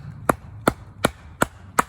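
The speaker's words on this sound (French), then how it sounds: "comme la lame est fort épaisse, encore une fois, ça va écarter beaucoup plus facilement le bois" Five sharp, evenly spaced knocks ring out as a thick-bladed bushcraft knife is struck while batoning through wood, each a crisp close chop with quiet between them.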